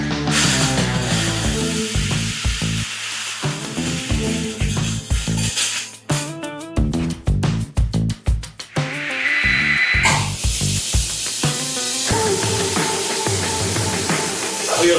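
Speed Queen Legend washing machine loaded with metal cowbells, a loud dense clanking and rattling that runs throughout, with a stretch of rapid rhythmic metallic knocks in the middle before the steady churning clatter resumes.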